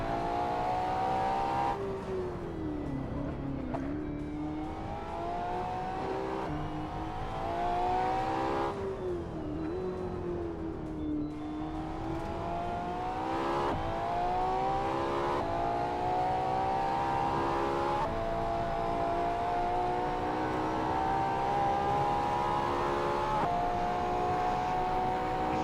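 A Ferrari LaFerrari's engine in a Goodwood Festival of Speed VR racing game, revving and pulling hard through rising and falling gears, a loud sustained engine whine that dips at each shift and holds steady without voices.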